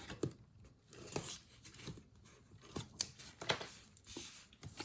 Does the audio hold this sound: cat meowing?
no